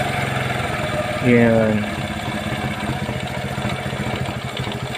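A motorcycle engine idles steadily and close up while its idle is being adjusted, with a brief rise in revs partway through and someone talking over the even running.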